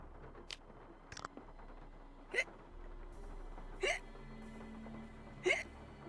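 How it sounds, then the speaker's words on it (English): Three distinct hiccups from the player character in the Nancy Drew game Legend of the Crystal Skull, evenly spaced about a second and a half apart, clear and close over a faint ambient game background with a few small clicks. "Uh-oh. We gave Nancy the hiccups."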